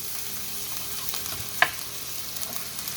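Garlic and ginger fry in a generous splash of oil in a pan, giving a steady, close sizzle with a brief sharp clatter from a quick toss partway through; no voices.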